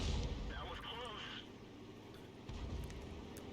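A 105 leFH18B2 howitzer in a video game lets off a muffled boom amid rumbling battle noise, with a short whistling tone trailing after the shot and a second thud near the end.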